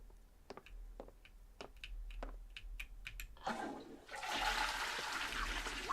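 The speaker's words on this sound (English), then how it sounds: "And we successfully flushed." A toilet flushing in a video game, preceded by a run of soft ticking clicks, then a loud rushing gush of water that swells and keeps pouring to the end, close up.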